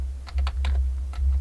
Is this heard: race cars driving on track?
no